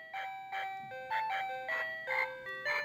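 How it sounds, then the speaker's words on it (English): A children's toy plays a loud, repeating electronic chime melody, steady and close, with each jingling note pulsing in an even rhythm. "certain children's toys, when we use those children's toys, the sound is quite loud"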